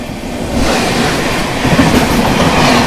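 Katihar–Amritsar Amrapali Express train rolling past at a crossing, a steady loud rumble of wheels and carriages with faint clatter, continuous and close throughout.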